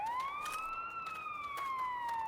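A police car siren in the video game The Day Before, one steady, loud wailing tone that rises and then slowly falls, heard alone.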